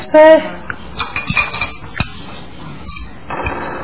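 Glasses clinking together in a toast among several people sharing a meal, a bright ringing clink near the start followed by scattered lighter clinks and cutlery taps under brief chatter.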